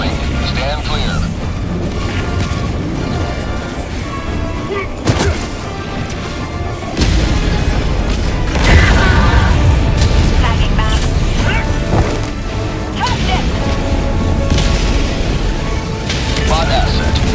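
An orbital barrage pounds the battlefield in Helldivers 2, with dense, rumbling explosions and crashing booms piling up continuously amid loud game noise, a few sharper blasts standing out along the way.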